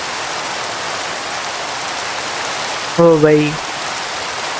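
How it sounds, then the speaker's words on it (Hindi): Steady rain pours in a video game, a continuous hiss with a brief voice near the end. "और ये बारिश अभी तक चल रही है"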